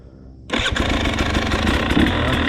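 A 2022 KTM 300XC TPI two-stroke dirt bike with an adjusted air screw bursts into life and runs loud and close, a raspy buzzing engine note holding steady with slight throttle swells.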